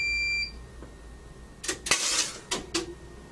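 A surge generator fires a 6,000-volt discharge into a lighting circuit fitted with a surge suppressor: after a steady tone cuts out, several sharp broadband cracks and crackling bursts follow in quick succession, loud and close.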